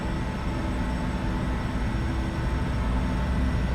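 Airliner engines in a flight simulator game roar up to power in a steady, loud, dense rumble with a broad hiss across the whole clip and no break in it.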